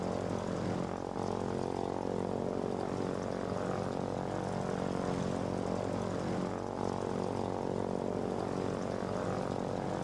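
A propeller plane in the game Foxhole drones steadily with a thick, continuous engine hum and buzzing harmonics, loud and close throughout, with no talking.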